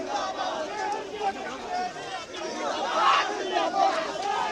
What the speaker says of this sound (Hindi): भारी तादाद में जो है यहाँ पे भीड़ है, लोग हैं मौजूद यहाँ पे और धक्का मुक्की लगातार चल रही है।